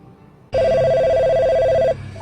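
A telephone rings loudly with a steady, continuous electronic tone for over a second, starting abruptly and then cutting off, with a low murmur of room noise before and after.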